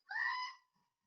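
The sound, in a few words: screaming goat sound effect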